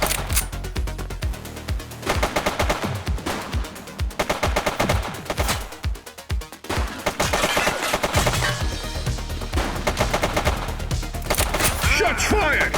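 Rapid gunfire in The Precinct video game, with dense bursts of loud, sharp shots rattling almost without pause, a short lull near the middle and then more volleys.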